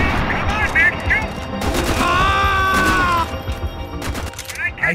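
Rapid gunfire bursts from a video game firefight fill the clip, loud and continuous, with excited talk over the shooting and a voice wavering through the middle.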